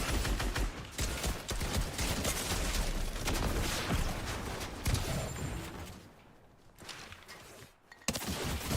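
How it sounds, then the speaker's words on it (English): Video game gunfire from two players shooting at once, a dense, loud rattle of overlapping rapid shots that runs for several seconds, thins out briefly, then returns with a few last bursts. "that was two people shooting me at once"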